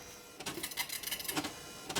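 A Citizen GSX-140 dot matrix printer at work, its print head rattling in quick buzzing bursts with short gaps between passes, close and fairly loud.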